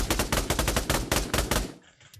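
Rapid gunfire from a weapon in the VR shooter Pavlov, team deathmatch mode: about ten loud, closely spaced shots in a steady burst, then a short fading tail and quieter sounds.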